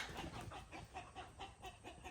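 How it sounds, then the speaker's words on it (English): On a homestead, two drakes fight and chickens join in, making a steady run of rhythmic clucks and quacks at a moderate distance over a noisy outdoor background, with no voices. "I think it's two drakes fighting. And the chickens are getting in on it."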